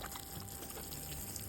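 Water pours over freshly sown seeds, a soft, steady, close trickle and splash running without break at low volume.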